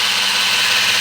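Steady, loud whirring drone of a kitchen appliance running while making pounded yam, an unbroken hiss-heavy motor hum with no pauses.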